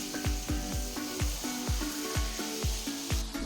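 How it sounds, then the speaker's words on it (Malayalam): Onion, tomatoes, chillies, garlic and mint sauté in coconut oil with a bright, continuous sizzle, and a spoon scrapes the pan in a steady rhythm of about two strokes per second. No one speaks. "ആവശ്യത്തിനുള്ള ഉപ്പും കൂടി ചേർത്ത് നന്നായിട്ടൊന്ന് വഴറ്റിയെടുക്കാം കേട്ടോ"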